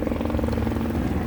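A helicopter flying overhead, a steady rhythmic rotor thump and engine drone that stays continuous and fairly loud with no voices.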